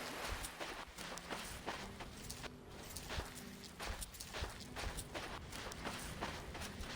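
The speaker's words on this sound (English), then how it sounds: "oh, is that our footsteps making that weird noise?" Steady, rhythmic footsteps on a beach give off an odd, scratchy crunching noise, faint and continuous over several seconds with no talking.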